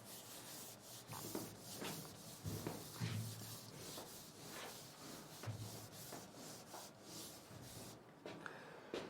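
Someone wipes writing off a board with a duster, making soft rhythmic rubbing strokes with short scraping pulses. The sound is faint and close, with no speech over it.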